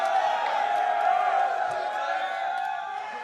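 Esports arena crowd at the 2013 League of Legends World Championship cheering for TSM, a sustained roar of voices and whoops with scattered clapping, loud and continuous while tapering slightly toward the end.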